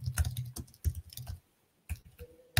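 Irregular bursts of computer keyboard keystrokes while a WP-CLI command is entered, close and fairly quiet, with a short pause before a final flurry of clicks.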